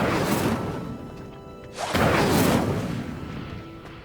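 The Incendio fire spell lights a pyre in Hogwarts Legacy, a video game: a broad whooshing rush builds, cuts off briefly, then a second louder whoosh of flame roars up and slowly tapers.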